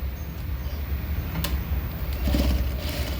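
A sewing machine runs while stitching a prince-cut blouse, a steady mechanical whir with light rattling that grows slightly louder toward the end, with no talking.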